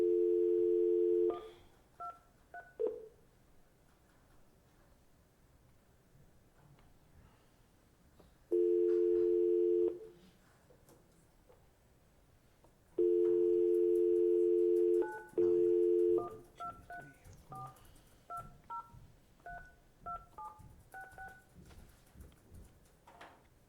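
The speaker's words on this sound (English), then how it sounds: "I'm going to call the conference line back" A phone dials into a conference line and produces loud steady dial tone bursts, separated by gaps, followed by a rapid series of short keypad beeps from the dialed digits.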